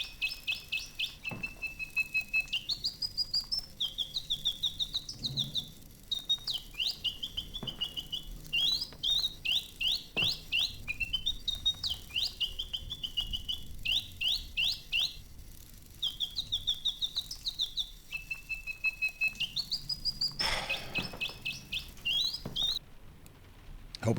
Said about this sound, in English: Mechanical bird.